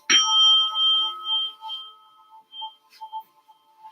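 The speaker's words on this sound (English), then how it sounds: "The bell indicates the end of class." A single bell struck to close a hatha yoga class, ringing out with a clear bright tone that decays slowly over a few seconds, with faint soft sounds near the end.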